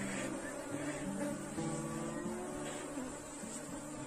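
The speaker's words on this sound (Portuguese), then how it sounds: "Então aqui vai vir muita abelha na câmera" Agitated honeybees swarm around an open beehive, a thick, constant buzzing drone close to the listener, with the pitch of individual bees wavering as they fly past.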